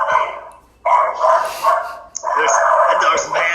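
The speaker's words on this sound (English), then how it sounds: "That dog's mad at the pool guy." A small dog barks angrily at the pool guy in repeated sharp yapping bursts, close and loud, with a person talking in between and over the barks.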